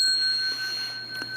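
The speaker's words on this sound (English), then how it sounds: "I'm going to give you 10 rings of the bell" A single bell rings with a pure, sustained metallic tone that holds steady and slowly fades, close and clear, with a faint tap or knock underneath.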